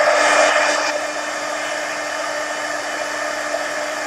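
A hair dryer blows steadily on an art journal page, a loud close whoosh that eases slightly after the first second and then holds an even, continuous drone.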